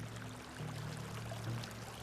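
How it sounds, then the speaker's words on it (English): Water pours steadily into jars with a continuous rushing, trickling flow, close and fairly loud, holding unbroken for the whole two seconds without any voices. "These jars are filled with water"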